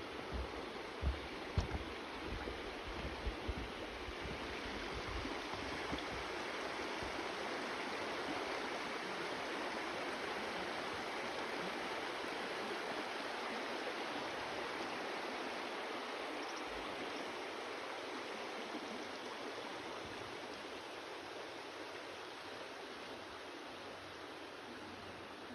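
River water rushes steadily beneath a trail bridge, a continuous broadband wash holding at an even level throughout, with a few faint knocks near the start.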